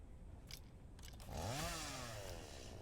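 Chainsaw with a spring-loaded blade in the video game Satisfactory, revving up mid-clip into a loud whining buzz with rising and falling pitch after a few short clicks and thuds.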